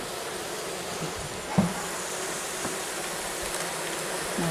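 Honey bees buzz around an opened hive during an early-spring inspection while a frame full of honey is lifted out, giving a steady, close, dense hum with a few brief knocks and shuffles.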